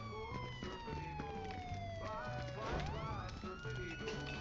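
A fire truck siren in the video game Fortnite wails with falling, sweeping tones over a steady pulsing game soundtrack, moderately loud, with faint background voices.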